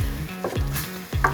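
Pumpkin sautéing in a pan, with soft sizzling and a few stirring scrapes as it starts to stick and caramelize, close and moderately loud, with no talking.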